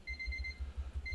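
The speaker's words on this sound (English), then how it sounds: "That's my 30-minute timer." A 30-minute timer goes off with a steady, moderately quiet electronic beeping tone that pauses briefly and resumes, over a low rhythmic thumping hum.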